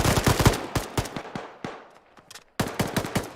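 Gunfire in Arma, a military shooter game, arrives as rapid bursts of automatic shots that echo, with a short lull before another close volley.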